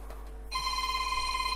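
A telephone rings with a steady electronic tone that starts abruptly partway through and holds on, close and clear, in a workshop where a Holden VE Calais key is being programmed.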